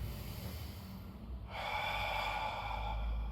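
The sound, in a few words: deep inhalation during a Pilates exercise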